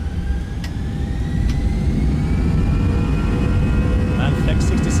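Airbus A319 jet engines roaring steadily at takeoff power in the X-Plane 12 flight simulator, a constant loud broadband rumble with a rising whine that holds throughout.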